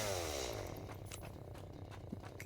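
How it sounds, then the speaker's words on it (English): A chainsaw in the video game Satisfactory whines in a steady, buzzing drone that tapers off slightly, with faint clinks and taps scattered over it. "say bye-bye to fucking chainsaw. I hate that noise."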